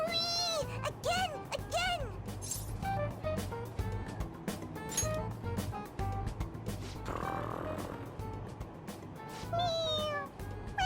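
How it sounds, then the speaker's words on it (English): Toy cat meowing when its head is pressed in the game Persona 5 Royal, with a few distinct, fairly loud meows spread over the span, accompanied by game sounds and background music. "It meows when you press on its head."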